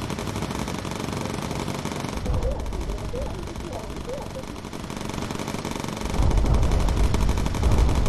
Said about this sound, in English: Citrus, go straight for the focus fire with incendiary ammunition.